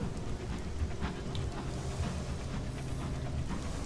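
Stormy weather in the Sunless Skies video game, with steady rain hiss and low rolling thunder rumbles running continuously throughout at an even, moderate level.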